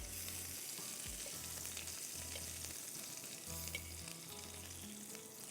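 Food frying in a pan, cooked a few minutes per side, with a steady close sizzle and crackle running throughout and no voices.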